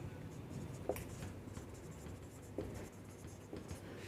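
Pen scratching across paper while filling in a petty cash book, a steady soft scrawl with a few sharper strokes, close and quiet.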